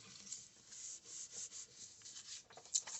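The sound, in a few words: paper being rubbed down onto a junk journal page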